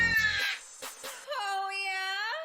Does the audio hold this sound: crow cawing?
yes